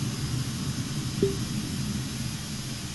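A jet plane takes off in Microsoft Flight Simulator, with a steady loud engine roar and rushing noise throughout and a brief tonal blip partway through.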